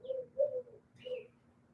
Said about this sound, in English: the doves are cooing